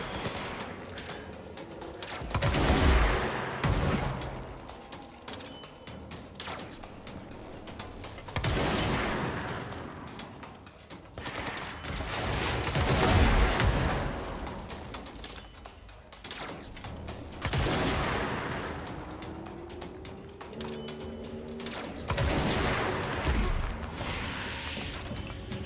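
Gunfire from a weapon in the video game Control, repeated heavy bursts of shots roughly every few seconds, each loud and booming with a long tail, with no talking.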